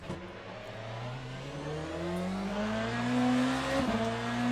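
A BMW M Hybrid V8 racing prototype in the game Le Mans Ultimate, accelerating out of a corner at Circuit de la Sarthe, the engine note climbing steadily through a gear change and rising again, loud and continuous, no talking.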